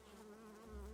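Bees buzz in the city-building video game Timberborn, a soft, steady insect drone with a wavering pitch that stays faint and continuous for about a second, with no voices.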